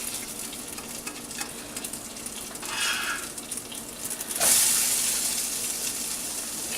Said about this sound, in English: that is starting to melt down, and we are going to toss in our onions